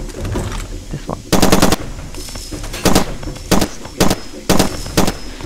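Loud gunfire from a weapon in the Far Cry 2 video game: several rapid automatic bursts in close succession, each a sharp clattering volley, with low game ambience between them.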